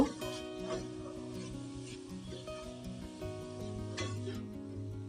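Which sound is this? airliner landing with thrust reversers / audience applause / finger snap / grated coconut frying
grated coconut frying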